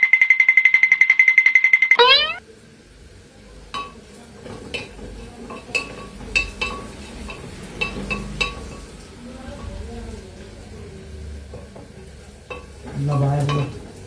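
Chopped garlic, ginger and onion hit a hot pan after a loud whistle-like hiss at the start, then sizzle while a metal spoon scrapes and clinks repeatedly against the pan, with a louder frying burst near the end.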